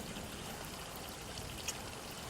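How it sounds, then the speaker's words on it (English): Water trickles down a staircase in a horror video game, a faint, steady watery hiss running evenly throughout with one tiny drip-like tick near the end. "you see water begin to trickle down the stairs"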